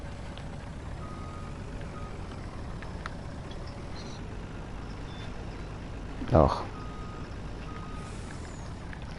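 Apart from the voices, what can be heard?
big truck reversing beeps in a farming video game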